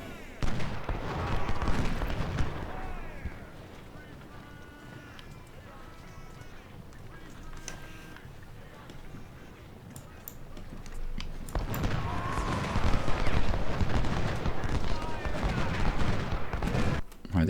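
Scattered musket and artillery fire crackling in Ultimate General: Civil War at Chancellorsville and Salem Church, with bursts of massed volleys at the start and end and thinner shots between, all fairly distant and continuous.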